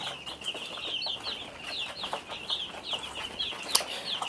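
Day-old baby chickens on a poultry farm in Cameroon, a flock of chicks peeping continuously in high, overlapping chirps at moderate loudness, with faint wing flutters.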